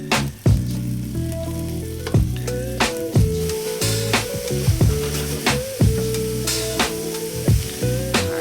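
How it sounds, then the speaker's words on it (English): Kale sizzles and crackles loudly in a hot pan, with a steady fry broken by rhythmic scraping and stirring strokes, close up and with no voices. "so I'm going to go ahead and add my kale"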